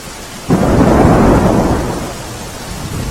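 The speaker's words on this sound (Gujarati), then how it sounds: "માધવપુર ગામે 2 કલાકમાં 3 ઇંચ વરસાદ વરસ્યો" Heavy monsoon rain in Madhavpur village, Porbandar, pours down loudly with a deep thunder rumble swelling in and slowly fading, the downpour continuing steadily afterward.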